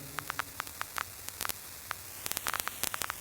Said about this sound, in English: Like this vinyl distortion.